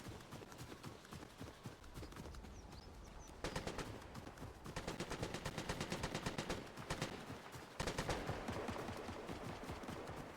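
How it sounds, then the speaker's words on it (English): Gunfire in the video game Fortnite, with rapid, dense bursts of shots crackling almost continuously and swelling louder in places, heard alone. "Gotta find the person that was shooting at me."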